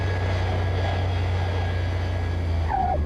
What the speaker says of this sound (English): The plane taking off coming at us.